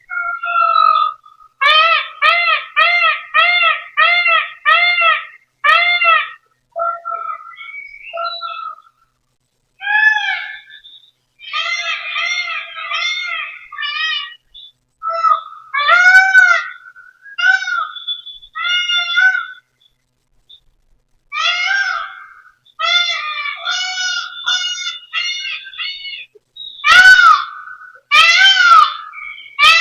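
Assorted bird calls come over monitor speakers, with rapid rhythmic runs of bright chirps, longer wavering cries and squawks. They are loud and close, set apart by short pauses, with no voices.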